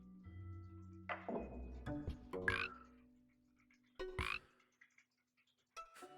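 Several frog croaks from the video game Storyteller, sounding in bursts spaced across the span, fairly clear over a low background tone with a few bright calls standing out near the end.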